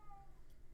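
A pet cat gives a brief, faint meow over a low background hum, a single short call heard at a distance with no voices.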